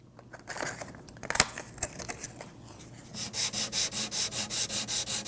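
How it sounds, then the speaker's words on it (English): Wet sanding with 800-grit paper on a small, very hard Corian block: scattered scrapes and taps at first, then a close, even back-and-forth rubbing in quick regular strokes. "take some 800 grit, and this time I'm going to use a small, very hard Corian block"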